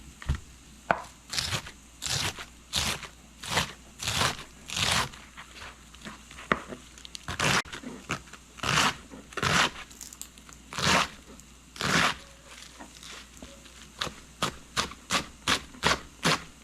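A knife cuts through cabbage on a board during a quick home dinner. The crisp chopping strokes come close and loud, in steady bursts with short pauses between them, and no one speaks.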